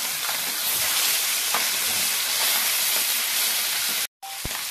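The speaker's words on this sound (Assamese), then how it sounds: "মাছটো ইতিমধ্যে ভজা হৈ গৈছে" Fish fries in hot oil in a pan, a steady loud sizzle and crackle running throughout, broken by a brief drop-out near the end, with no talking.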